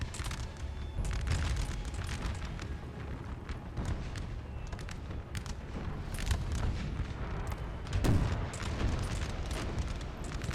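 Artillery batteries thunder in Napoleon: Total War, a steady rumble of cannon booms and distant gunfire layered over one another, with a louder blast near the end.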